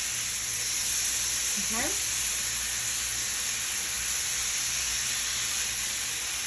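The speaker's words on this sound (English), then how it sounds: "just use a spatula and start cooking it up." Ground turkey taco filling sizzling and frying in a pan, a continuous close hiss that holds steady throughout, with a brief spoken word near the start.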